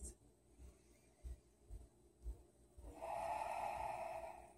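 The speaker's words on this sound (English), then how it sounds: "Ujjayi." Slow, deep Ujjayi yoga breaths sound close and soft, as a series of rhythmic airy pulses followed by one long, steadier breath.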